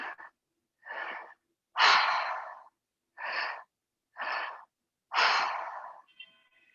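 Deep, deliberate breaths during a moon circle ceremony: six close breath sounds in a slow rhythm, with louder, longer exhales separated by silent pauses.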